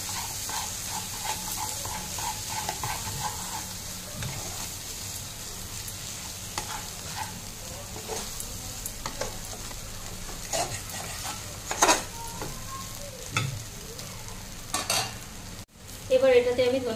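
Bombay duck (bombil) jhuri frying and sizzling in a pan, stirred steadily with a spatula that scrapes and clinks against the metal at intervals, a continuous close hiss running underneath throughout.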